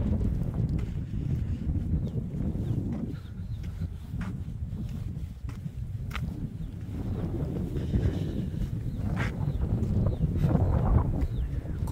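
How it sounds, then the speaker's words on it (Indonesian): Easterly wind blows at a mountain viewpoint at sunrise, with Mount Lawu in view, in a steady roar that buffets and rumbles against the microphone with no voices. "Angin dari arah timur."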